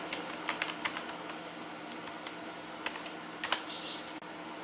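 Typing HTML code on a computer keyboard: scattered clicking keystrokes at an uneven pace, close and fairly quiet over a low room hum, with a few sharper bursts of keys near the end.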